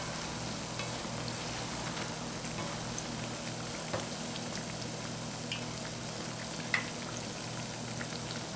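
Dhal and flour pholourie balls seasoned with saffron powder fry in hot oil, a steady soft sizzle and crackle with occasional small pops and a faint clink of a spoon turning them.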